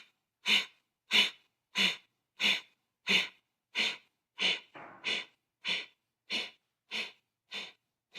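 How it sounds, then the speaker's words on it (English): Sharp, forceful nasal exhales in a yoga breathing exercise, about a dozen evenly spaced bursts roughly every two thirds of a second, close and loud with silence between, one breath doubling up midway. "exhale a little bit, and then exhale forcefully"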